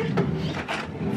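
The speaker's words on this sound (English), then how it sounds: "wrong drawer." A wooden drawer slides open and shut with soft thuds and a rumbling scrape, loud and near, two or three bursts of movement in quick succession.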